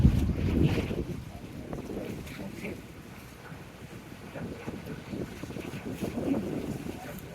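A river ferry crosses toward a border in South America, its steady low engine rumble blending with constant wind buffeting the microphone, swelling slightly at the start and end.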